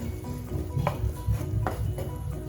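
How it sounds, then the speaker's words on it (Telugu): Mushroom masala gravy frying in oil over a medium flame, a steady close sizzle broken by two or three scraping stirs of a spoon against the pan. "ఈ మసాలా అంతా కుక్ అయిపోయి ఆయిల్ సపరేట్ అయ్యేంత వరకు మీడియం లో ఫ్లేమ్ మీద కుక్ చేసుకోవాలి"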